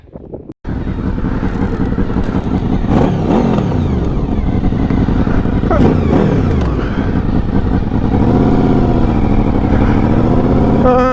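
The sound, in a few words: motorcycle engine riding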